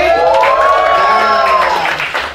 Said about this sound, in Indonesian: Kasih sorak-sorak buat Tuhan dong